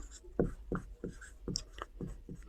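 Marker strokes on a classroom board during a chemistry lesson, several quick squeaky scrapes in an uneven rhythm, close and fairly loud with no talk over them.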